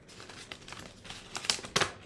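Folded paper snowflake being unfolded after cutting, soft close crinkles and rustles building to a few sharper crackles of paper near the end.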